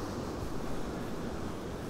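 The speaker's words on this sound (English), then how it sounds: "Hello, Atlantic Ocean." Atlantic Ocean surf at Smith Point on Fire Island National Seashore, Long Island: a steady, dense roar of breaking waves mixed with wind buffeting the microphone, with no voices.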